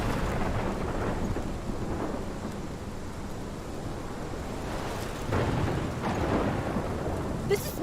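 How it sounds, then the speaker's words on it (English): Heavy thunderstorm in the video game Life Is Strange: steady rain roars throughout while low thunder rumbles swell and roll, with a brighter crack near the end, no voices. "This is my storm."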